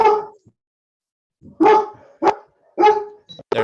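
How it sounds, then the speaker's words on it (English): A dog barks in several short, loud bursts, close by, with brief pauses between barks and a sharper yip at the end. "There's the dog."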